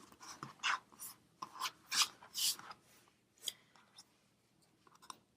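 Tappit cutter slid back and forth across rolled sugar paste on a work surface, a series of close, soft scraping and rasping strokes in irregular bursts, some louder, with no talking.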